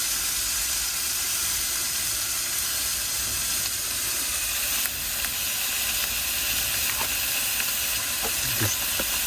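Herbs and food frying in a pan on a camping stove in an off-grid van on Ireland's Atlantic coast, a steady close hiss of sizzling with small crackles and pops toward the end.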